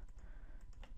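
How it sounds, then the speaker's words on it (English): Several light clicks on a computer keyboard's arrow keys, near and soft, spaced unevenly over a second. "Just use the arrow keys"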